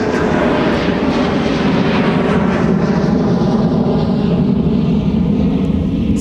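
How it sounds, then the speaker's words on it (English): A SkyWest CRJ 900 regional jet at Minneapolis–St. Paul airport, bound for Omaha, makes a loud, steady roaring engine rumble that stays close and constant throughout with no voices over it. "SkyWest CRJ 900 headed off to Omaha, flight 3948"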